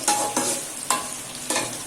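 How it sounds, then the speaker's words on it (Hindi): Onions fry in oil in a cooking pot, a steady sizzle broken by four sharp scraping strokes of a spoon stirring them, close and fairly loud. "अब इसको मैं अच्छे से फ्राई करूँगी प्याज को"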